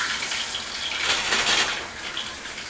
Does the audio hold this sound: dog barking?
no